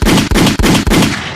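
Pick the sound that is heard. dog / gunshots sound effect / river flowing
gunshots sound effect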